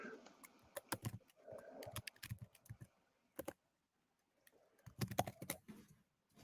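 Fingers tap out short bursts on a computer keyboard, quiet and close, with crisp clicks in uneven clusters separated by pauses and faint background murmur.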